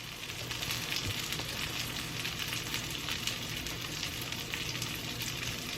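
A salmon burger fries in a pan with a steady, close sizzle and crackle, a dense continuous hiss with small pops and no talking.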